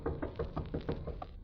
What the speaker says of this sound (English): Knocking. Oh, the door over there.